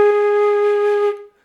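A single sustained A flat note on a flute, steady and clear at close range, held for just over a second before cutting off into silence.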